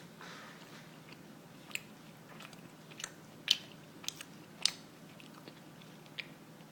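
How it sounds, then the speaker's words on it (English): Quiet, moist chewing with lip smacks while a cheeseburger is eaten, a few sharper clicks standing out against a low steady background, close to the mic with no talking. "Sorry for smacking."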